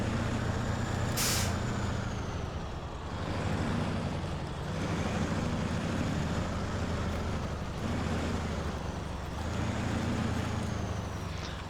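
Truck engine rumbling steadily in the snowy Yukon setting of SnowRunner, with a sharp hiss of an air brake release near the start and a continuous low drone throughout, no talk.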